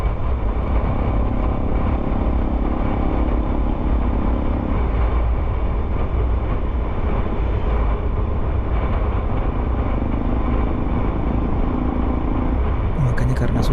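Two-wheeled motorbikes rumble steadily past on a reopened mountain road at Lembah Anai, a continuous loud engine drone that swells and fades, with people talking over it.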